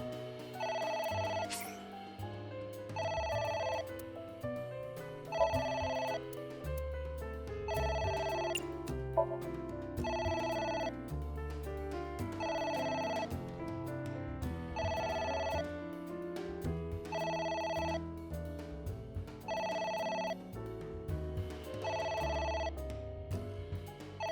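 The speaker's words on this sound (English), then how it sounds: "It's ringing again." Telephone bell ringing in the video game AI: The Somnium Files, repeating in regular bursts roughly every two seconds over a game music backdrop, with no talking.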